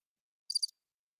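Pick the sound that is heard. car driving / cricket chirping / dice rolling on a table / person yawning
cricket chirping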